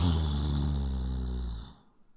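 A person imitates a snore with one long, drawn-out nasal rumble that holds steady and then quickly fades to silence.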